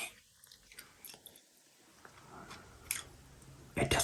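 Werther's Original caramel apple filled hard candy being sucked with wet mouth sounds, then sharp crunching bites near the end, recorded very close and quiet.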